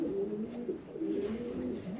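A breeder's pigeons coo softly in their loft, overlapping low rolling calls repeating in a steady rhythm, close-ish and fairly quiet, with no voices.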